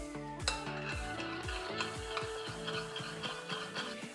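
A spoon stirs and mixes a chickpea salad with olive oil, salt and pepper in a bowl, giving a steady series of clinking, scraping knocks close by, with no voices.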